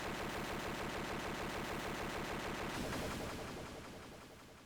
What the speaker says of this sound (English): when he wants to release his 4th energy barrage, he will instead explode and destroy the whole stage